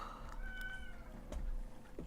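A cat meows a few times in the prison-building game Prison Architect, short tonal cries that come through faintly and alone.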